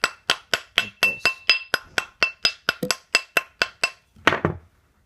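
A hammer taps a coin ring on a steel mandrel in about fifteen sharp, ringing metallic strikes at a steady pace, close and clear, ending with a duller final knock.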